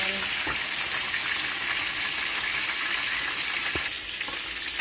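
A whole fish deep-fries in hot oil, giving a loud, steady, close sizzle that holds unbroken throughout, with a few faint knocks underneath.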